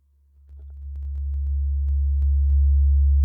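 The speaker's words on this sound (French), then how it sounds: "Et nous entendons donc une grosse sinusoïdale à 70 Hz" Deep, steady 70 Hz sine tone swelling gradually in level and then holding as a loud continuous hum, with a few faint clicks above it.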